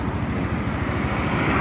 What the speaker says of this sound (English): we have an aeroplane just taking off from the airport